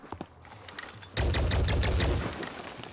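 Gunfire in the video game Phoenix Point: a few scattered light taps, then a sudden dense burst of rapid automatic shots lasting about a second and a half before fading, loud and close.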